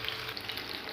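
Soft, steady sizzle of potato chapli kababs frying in oil in a pan over a medium-high flame, a quiet continuous crackle with faint pops.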